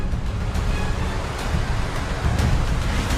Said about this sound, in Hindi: उधमपुर में भी आसमान लगातार बरस रहा है और पहाड़ी दरिया में लहरें उठ रही हैं